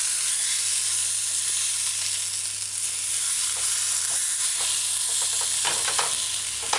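Vegetable cheese omelet frying in a pan after being flipped, a loud continuous sizzle with occasional crackles and pops, close up.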